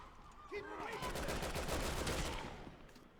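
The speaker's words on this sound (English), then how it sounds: "What are you shooting at?" Gunfire in the video game Resident Evil 6, a dense burst of rapid shots lasting a few seconds, loud and close, with a brief voice line just before it.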